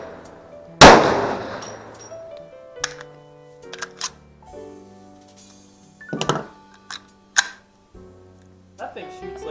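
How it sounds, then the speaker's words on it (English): One loud, sharp .44 Magnum handgun shot at an outdoor shooting range rings out near the start, followed by scattered fainter clanks and pops, with people talking throughout. "That thing shoots like a tiny rifle cartridge. It's a 44 Magnum."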